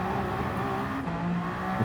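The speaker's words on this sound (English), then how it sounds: "Down to first, really slow this car down, accelerate in second." A race car engine revs and accelerates through the gears at Le Mans in Gran Turismo 7, a continuous close, loud drone with shifting tones and no talking.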